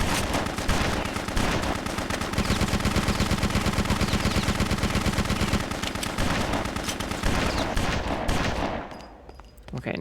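Sustained rapid automatic gunfire rattles loudly through a video game battle, with overlapping bursts and explosions that cut off abruptly near the end, and no talk.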